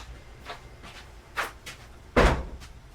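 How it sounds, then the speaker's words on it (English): A door opens indoors with a few soft knocks and handling sounds, ending in one louder thud near the end, heard without any talk. "I just heard the door open."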